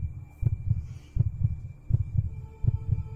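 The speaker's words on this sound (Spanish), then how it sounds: "el infernal latir del corazón iba aumentando" Heartbeat sound effect for a Spanish-language audiobook of Edgar Allan Poe's The Tell-Tale Heart: steady low double thumps, four lub-dub pairs in a slow even rhythm, close and alone over a faint hum.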